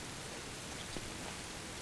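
Steady rain falls in the game Don't Starve Hamlet, a dense, even hiss of drops with no break across the short stretch.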